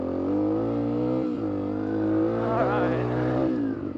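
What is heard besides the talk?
motorcycle engine revving while riding off-road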